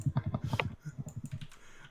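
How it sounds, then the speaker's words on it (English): Quick, rhythmic keystrokes clatter on a computer keyboard at close range, a dense burst followed by a looser run of taps, with no speech. "The reason why I'm typing,"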